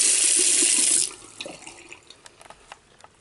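Water gushes from a hotel bathroom sink tap for about a second, then stops, leaving scattered drips and small knocks in the quiet basin.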